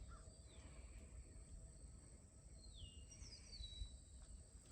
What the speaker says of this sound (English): Birds singing along